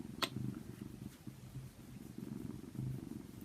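Louie the cat purring softly and steadily, close and quiet, with a low rhythmic rumble and a faint brief click near the start.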